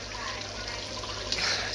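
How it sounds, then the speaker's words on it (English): Thai curry bubbling steadily in a pot on the Phi Phi Islands, a continuous close simmer with a brief splashy burst near the end. "it's bubbling away"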